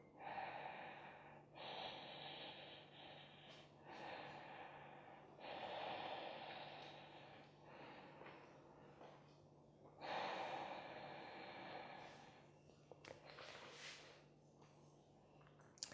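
Steady Ujjayi breaths during a vinyasa yoga flow: long, hissing, ocean-like inhales and exhales repeating every few seconds, close and clear over a quiet room with no talking.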